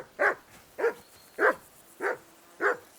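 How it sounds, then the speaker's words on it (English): Five sharp dog barks at a steady, evenly spaced rhythm, fairly close and clear, from a dog in the medieval game Kingdom Come: Deliverance II, with no talking over them. "That barking was a pain in the ass."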